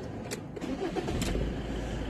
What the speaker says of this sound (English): for now we'll start the engine